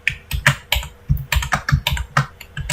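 Close, crisp clacking of a computer keyboard as numbers are entered in Excel, about a dozen uneven keystrokes in quick bursts with no talking.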